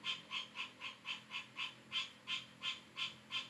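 A frog calls in a regular train of brief, bright croaking pulses, roughly three per second, steady and moderately faint over a low background, with no one speaking.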